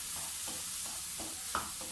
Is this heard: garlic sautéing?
yes